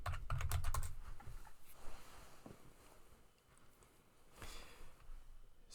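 Rapid key clicks on a computer keyboard, a quick burst of near, crisp taps at the start, then quieter scattered keystrokes with a second short flurry later.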